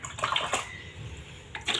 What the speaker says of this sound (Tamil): so you want to fill it with more water